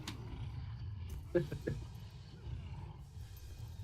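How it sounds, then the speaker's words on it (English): A short, low animal roar played as a sound effect during a tabletop game session, brief and moderately loud over a steady background hum and soft room noise. "you hear a roar around the side of the building"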